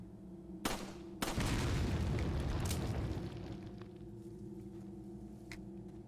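Dynamite blowing up in Resident Evil 4: a sharp crack followed by a bigger booming blast with a rumbling tail that slowly fades, alongside lighter pops and steady background game ambience.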